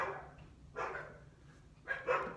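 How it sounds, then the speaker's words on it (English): Dogs bark a few times in separate bursts, a short distance off and moderately loud, with quiet gaps in between. "Those are my dogs barking"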